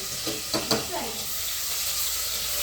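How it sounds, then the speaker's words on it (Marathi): Garlic, chili and cumin paste hits hot oil for a tadka while making dal bati, giving a steady broadband sizzle with a few sharp spits and crackles early on, close and fairly loud. "तर आता तेल गरम झालंय, आपण त्याच्यामध्ये टाकूया लसण मिरचीचं पेस्ट"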